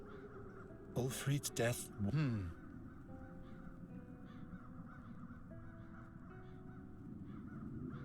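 Crows in the video game Chains of Satinav caw in a quick burst of several loud, harsh calls near the start, then a voice speaks over low ambient music.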